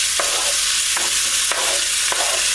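Salmon sizzles and fries steadily in a hot pan on a gas flame, a loud constant hiss broken by a few soft stirring scrapes at roughly regular intervals, with no voices.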